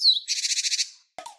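Great tit call pairing a high thin alarm note with a rapid buzzy run of chattering gathering notes, close and clear, followed by a brief separate chirp after a short gap.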